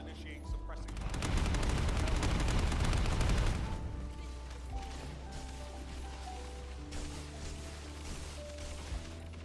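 Air support lays down suppressing gunfire in the video game The First Descendant. It opens with a loud, dense burst of rapid shots lasting a few seconds, then fades to scattered distant fire and mechanical hum with a voice over it.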